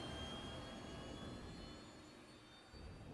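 Anvil Gladiator spaceship engines lifting off in Star Citizen, a faint, steady jet-like roar with a thin high whine that eases slightly and then swells again.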